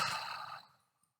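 A slow, deep exhale, one long soft breath heard close and alone, trailing off into silence.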